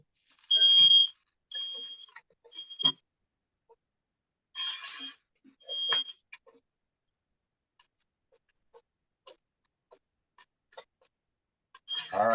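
A kitchen smoke alarm sounds in several short, high-pitched beeps, some repeated in quick bursts, followed by long quiet stretches with faint clicks and small noises.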